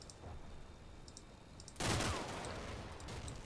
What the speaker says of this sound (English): Probably somebody just walked up and shot him.